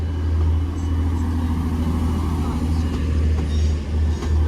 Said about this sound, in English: Right, leaving now is 185 144 on the 1451 Transparent Express service to Manchester Airport only from Redcar